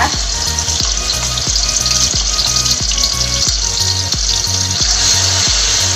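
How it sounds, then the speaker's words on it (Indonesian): Loud, steady sizzling of chili sambal with salted squid frying in hot oil, with rhythmic scraping or stirring strokes repeating throughout. "Kita langsung cemplungin sambalnya ya, kita goreng."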